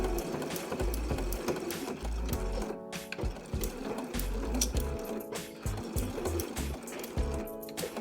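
A sewing machine stitches a seam along fabric for a makeup pouch with a zipper, running steadily up close with a rapid rhythmic mechanical clatter and brief slowdowns, no talking.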